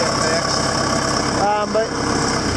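A John Deere 6200 tractor engine idles nearby, a steady mid-low drone with a constant high whine, interrupted briefly by a short tonal squeal or voice partway through.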